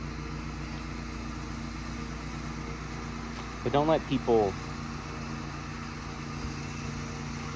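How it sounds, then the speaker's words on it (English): A lawn mower runs nearby outdoors, a steady low engine drone that continues throughout while a person briefly speaks over it. "We have a person mowing the lawn over there."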